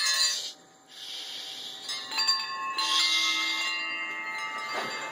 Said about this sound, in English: Wind chime.